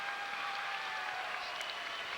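A crowd at a 1995 high school boys' basketball championship game in a packed gym cheers and applauds, a steady broad roar that holds at an even level for the whole stretch.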